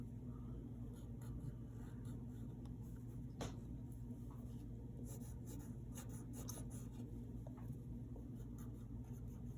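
Pencil drawing on paper while sketching the Beast from Disney's Beauty and the Beast, faint scratchy strokes and light rubbing over a steady low hum, with a few brief sharper scrapes.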